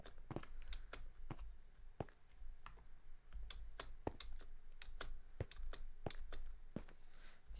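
Rapid keystrokes on a Bluetooth keyboard during a Minecraft parkour session, sharp irregular clicks in quick bursts, close and fairly loud with no talking.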